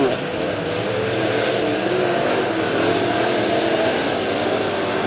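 Late model race cars roar around a dirt oval on the final lap of a feature at Lebanon Midway Speedway, a steady loud wash of engines with a race announcer talking over it.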